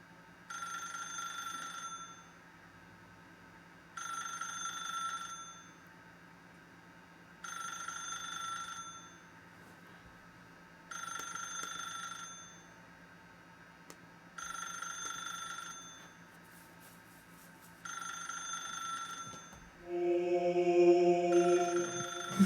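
A telephone in The Stanley Parable rings repeatedly, six evenly spaced bell bursts about every three to four seconds over a low background hum, then a louder tonal sound takes over at the end.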